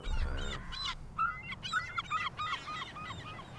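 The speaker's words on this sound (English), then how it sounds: "there's a chicken in the mill, or in a little chicken house in the mill, at the mill" A chicken in a little chicken house at a mill gives a series of short, squawking honk-like calls, irregularly spaced and moderately close, with no talking.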